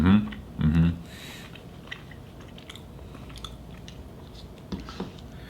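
A meatball taken from noodle soup is bitten and chewed up close, with a couple of louder bites at the start followed by faint, soft chewing.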